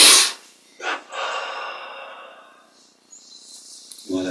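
A slow inhalation during a guided meditation exercise, an audible airy breath drawn in after a short gasp, fairly close, with a faint chirp near the end and no talk over it.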